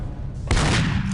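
Burst of video game gunfire from a shooter, a sudden loud blast that sustains as rapid shots for the rest of the moment, with no talk over it.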